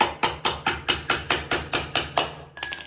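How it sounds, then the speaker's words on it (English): A hammer taps a 1/4 inch socket adapter into a groove while a liner is fitted in a utility vehicle: ten sharp, evenly spaced strikes in a steady rhythm, then a brief ringing clatter. "Give them a bit of a tap."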